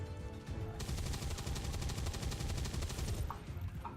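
Rapid automatic gunfire in the video game XCOM 2, a dense burst of shots lasting a few seconds over a loud, steady game soundscape, with no talking.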